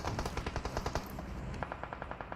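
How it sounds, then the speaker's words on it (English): Rapid automatic gunfire from PUBG Mobile during a 2021 PMGC scrim, laying down suppressing fire in a steady run of quick, evenly spaced shots at moderate distance, with no voices over it. "Stalwart just putting a bit of suppressing fire onto High Boy"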